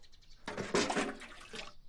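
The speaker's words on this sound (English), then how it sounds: "it's good for your health to wash feet with hot water" Hot water sloshing and splashing as feet are washed in a foot bath, a short burst of wet swishing that rises suddenly and fades after about a second, close and fairly loud.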